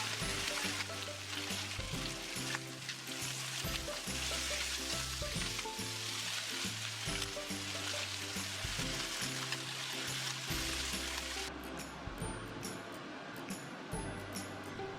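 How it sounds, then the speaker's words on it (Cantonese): Chicken wings pan-frying in a wok to sear both sides golden for a five-spice taro chicken pot, with a loud, steady sizzle running throughout and a brief sharper crackle near the end. "將雞翼嘅兩面煎大概1至2分鐘，令到佢表面金黃。"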